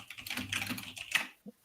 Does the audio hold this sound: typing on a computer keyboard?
yes